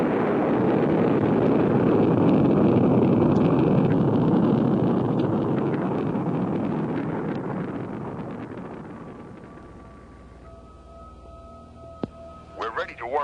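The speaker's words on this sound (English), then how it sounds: "the sleek white SET interceptor blasts off for STARLab" Sound effect of a sleek white SET spacecraft interceptor blasting off: a loud, broad rumbling roar swells and then slowly fades away, leaving faint electronic tones and chirps.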